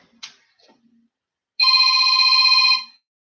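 A telephone rings once in a steady electronic trill lasting about a second, clear and fairly close, after a brief clatter and some faint movement in an otherwise quiet room.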